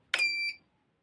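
A Microtek EB 900 inverter board gives one short, bright electronic beep as its relay switches on, loud and close, lasting about half a second before cutting to silence.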